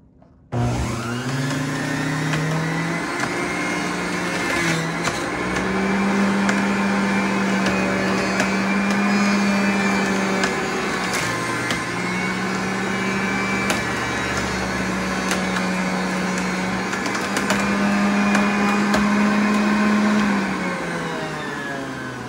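Electric juicer or blender grinding apples for green juice, a loud continuous motor whine starting abruptly and holding steady for about twenty seconds with slight pitch shifts.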